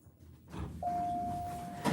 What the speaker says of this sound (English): And it has an Otis chime in it.